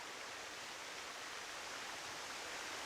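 Water pours over a waterfall in the video game SCUM as a constant broadband rush, fairly soft and unbroken throughout, with no other sounds or voices.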